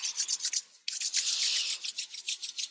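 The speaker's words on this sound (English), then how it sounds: "And rub your hands together." Palms rub together briskly at home during a gentle yoga class, a soft dry swishing in steady strokes with one brief pause, close and quiet, no talking.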